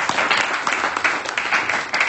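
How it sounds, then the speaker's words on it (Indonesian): A classroom group bursts into sustained applause, loud, dense and steady clapping from many hands throughout. "mari kita berikan aplaus kepada"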